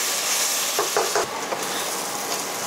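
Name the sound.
bitter gourd pieces frying in oil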